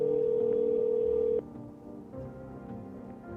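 A steady telephone tone rings out for about a second and a half, then cuts off, leaving quieter line hiss and faint background murmur.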